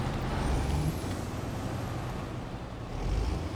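An Imandra Vorn Grad M181 truck in SnowRunner crawls up over a rock on its left-side wheels, its engine a constant low rumble that swells slightly toward the end, with no one speaking.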